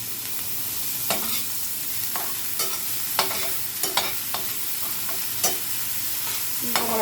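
Ham fried rice sizzles steadily in a hot pan while a utensil stirs and scrapes it, giving irregular clacks over a constant frying hiss.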